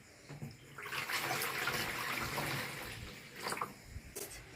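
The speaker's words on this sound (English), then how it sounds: "Now I'm going to fill the basin 2/3 full of warm water." A washbasin fills with warm water from a tap for a patient's bed bath, a steady close rushing pour that swells and then tapers, with brief splashes near the end.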